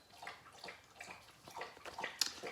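Gunner, a dog, laps water from a bowl: quiet, quick wet slurps and small splashes in an irregular rhythm, close by and faint.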